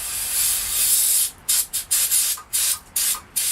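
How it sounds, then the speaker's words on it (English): Carburetor cleaner hisses from an aerosol can onto an old, rusty Manco Dingo carburetor: one long continuous spray, then a run of short sharp bursts, close and loud. "I'm going to take some carburetor cleaner"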